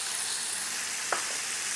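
Chili sauce sizzling in a hot pan for a dim sum sauce, a steady loud frying hiss with one brief scrape of stirring near the end, no voices.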